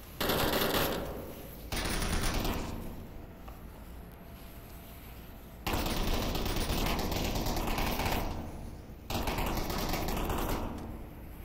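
Loud, sustained automatic gunfire bursts from the virtual-reality shooter Onward, during a competitive match at a stairwell entry, coming in several long rapid volleys separated by brief lulls.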